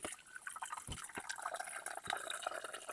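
Filtered drinking water from a gravity water system trickles and pours into a kettle, a quiet, steady liquid splash with small drips, no voices.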